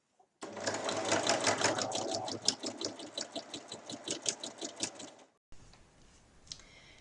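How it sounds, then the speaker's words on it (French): A sewing machine stitches fabric for a lined reversible drawstring pouch, a fast rhythmic mechanical chatter lasting about five seconds, then stopping, followed by a few quieter clicks close up. "je vais reprendre ma couture en faisant de nouveau un point d'arrêt"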